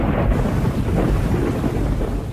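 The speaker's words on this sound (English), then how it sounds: "A bracing wind heralds the approaching storms" Strong wind gusting over the Zambezi ahead of approaching storms at the start of the wet season, a loud, dense, rumbling roar without pause, close to the microphone.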